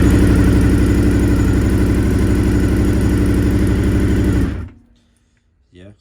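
A long-stored barn-find Honda VFR 400 NC30 motorcycle engine runs loud and close at a steady, throbbing idle for several seconds, then cuts out abruptly into near silence, with a small faint knock just after.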